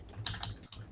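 Brief burst of a few quick keystrokes on a computer keyboard, soft and close, with a short pause before the tapping resumes, no voices.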